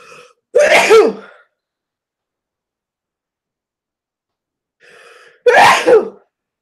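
Two sharp human sneezes, each preceded by a short inhaled breath, loud and close, separated by about four seconds of silence.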